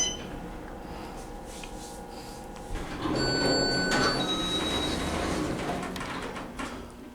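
Otis Series 5 hydraulic elevator door at a Holiday Inn Express in Evanston sliding along its track: a hum, then a louder rumbling slide with a clunk partway and thin electronic tones, continuing to the end.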